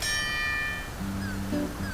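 A service bell in the video game Part Time UFO rings once with a bright, clear ding that rings out and fades. Short tonal game blips follow.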